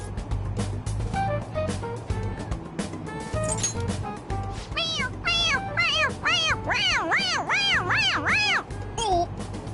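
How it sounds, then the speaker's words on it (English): A toy cat gives a run of repeated electronic meows, rising and falling in quick succession, over busy background chatter and ambient noise. "It meows when you press on its head."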